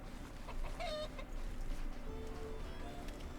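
Chicken clucking in the video game RuneScape: Dragonwilds, a few short, fairly faint clucks over steady ambient game background noise.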